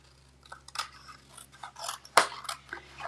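Scissors snip through card paper in a few short, close cuts, ending in one sharp, crisp snip.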